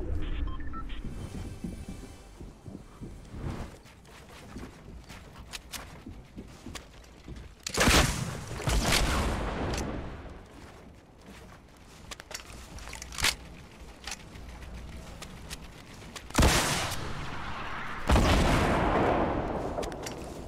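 Pirate pistol fire in Fortnite: scattered sharp reports, some loud and close with booming tails, others lighter, spaced irregularly across the stretch with quieter game noise between.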